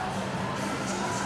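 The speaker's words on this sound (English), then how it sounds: "everyone's cheering and everyone's ready for it to start" A packed high school volleyball gym crowd, Flower Mound vs Marcus, roars in a steady, dense wash of cheering and shouting just before the match starts.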